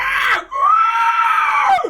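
A human voice imitates a banshee, letting out two loud, close, high-pitched wailing screams, a short one followed by a longer drawn-out shriek that falls away at the end.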